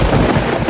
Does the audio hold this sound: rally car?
no